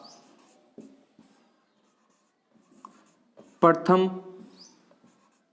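Pen writing notes on paper during a Hindi history lesson, soft scratchy strokes in short bursts with pauses, with someone talking loudly near the end.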